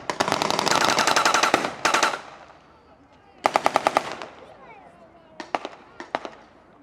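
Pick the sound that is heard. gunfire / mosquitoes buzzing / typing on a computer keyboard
gunfire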